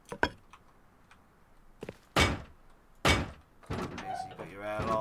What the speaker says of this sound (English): So chuck this on, and we'll chuck the doors on.